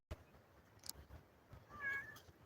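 A house cat in a small homemade outdoor enclosure gives a faint, brief meow near the end, after a soft knock, against quiet background noise.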